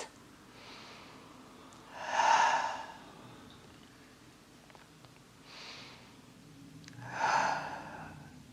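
Two deep breaths during a yin yoga session for back pain, each a soft, airy rush of breath swelling and fading, a few seconds apart, close and quiet with no talking.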